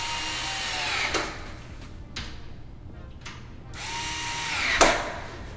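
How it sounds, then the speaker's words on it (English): Small Metabo 8-volt cordless screwdriver driving screws, two rising whirring bursts about a second each, separated by brief clicks and quieter pauses, close and moderately loud. "this little Metabo freaking screwdriver is amazing"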